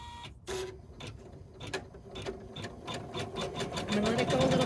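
An embroidery machine runs a placement stitch line for quilt batting, a rapid mechanical needle chatter that starts abruptly, then builds into steady, closely spaced stitching bursts growing louder toward the end, with quiet talk faintly in the background.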